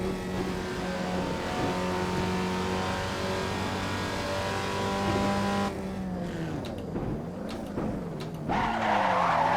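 A Datsun 240Z in Assetto Corsa holds a loud, steady engine drone at high revs, then the engine note drops and wavers as the car slows and tyres squeal through a turn, with revs climbing again at the end.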